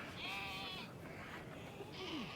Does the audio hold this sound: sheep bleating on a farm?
yes